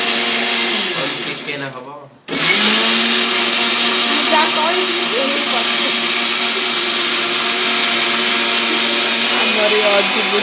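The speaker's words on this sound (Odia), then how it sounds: "ଚିକେନ ପାଇଁ ଗ୍ରାଇଣ୍ଡର ହଉଛି।" A kitchen mixer grinder grinding spices for a chicken curry, a loud steady high-pitched motor whine that stops briefly, then starts again and runs on, close up, with a voice speaking briefly over it.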